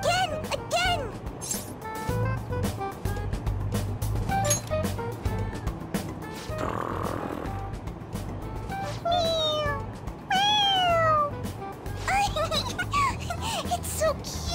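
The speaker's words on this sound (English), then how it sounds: "It meows when you press on its head." Toy cat in the video game Persona 5 Royal meowing when its head is pressed, repeated high meows scattered over game music and background ambience, with children's giggling and voices in between.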